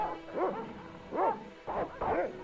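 Dogs barking in the Broken Sword: Shadow of the Templars Reforged adventure game, four separate woofs spaced across a couple of seconds, fairly close and clear with no talk over them.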